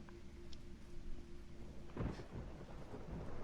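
Thunder rumbles in an apartment in the video game Resident Evil 3 Remake, a low steady roll joined by a heavier crack and boom midway, with rain hissing faintly underneath.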